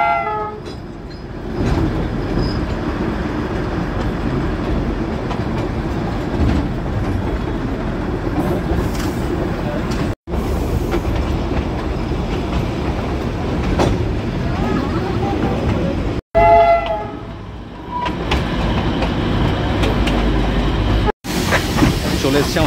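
Darjeeling toy train running over the Batasia Loop on the return journey, a steady loud rumble of wheels and carriages with rattling clatter and a brief horn-like tone, continuous throughout with short breaks.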